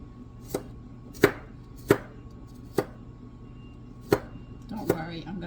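A knife chops garlic on a cutting board in six separate sharp knocks spaced unevenly about a second apart, close up, with a faint voice stirring near the end.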